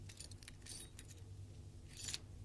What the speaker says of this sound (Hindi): तिजोरी की चाबियां।